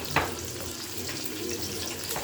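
Chicken tikka frying in a little oil in a pan without water, giving a steady broadband hiss and sizzle that runs throughout, with one brief sharper crackle near the start.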